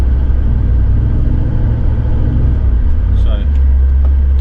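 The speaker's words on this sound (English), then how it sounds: "car's just having a wee bit of a fart" Car engine rumbling steadily and loudly with heavy low-end drone throughout, a brief higher squeak near the end, while people talk over it.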